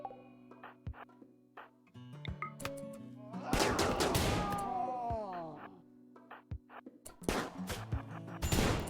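Gunfire in RimWorld near a fence during a fight with animals: scattered sharp shots and clattering bursts, louder volleys in the middle and end, among softer game effects, with no talking.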